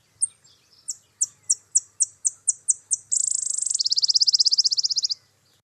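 Warbler song in the Alstrom lecture's leaf warbler comparison: a bird delivers a run of about ten clear, evenly spaced high notes, then breaks into a fast buzzy trill lasting about two seconds, close and loud against a quiet background.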